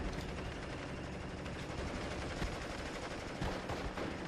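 Dense battle noise from the World War II strategy game Steel Division: Normandy 44 at Pointe du Hoc: continuous machine gun fire and scattered gunshots form a loud, crackling wall of sound.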